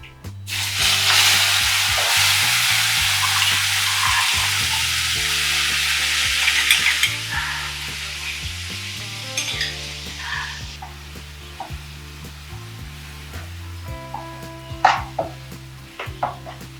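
Turmeric tempering sizzles loudly in a hot pan, a bright continuous frying hiss that fades after several seconds while a spoon stirs and scrapes, with occasional clinks of utensils against the pan and no talking.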